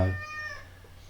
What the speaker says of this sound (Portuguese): Eu tenho aqui uma gatinha, sempre que me ouve falar para a câmara ela também quer falar.